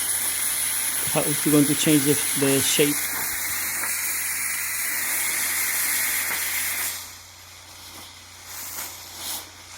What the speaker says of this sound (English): So I'm going to actually hit it with the steam there